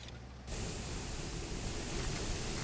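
Steady hissing spray-gun painting sound from the video game SuchArt, a continuous airy rush that starts abruptly after a short quieter moment and carries on evenly without pause.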